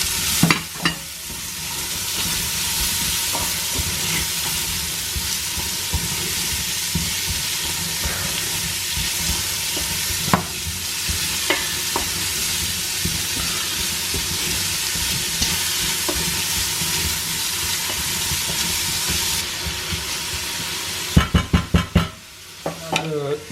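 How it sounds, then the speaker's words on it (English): Onion frying in the same pot used to brown pork chops, a steady broad sizzle with stirring scrapes running throughout, ending in a few sharp clatters of utensil against the pot. "And we're just going to fry in the onion"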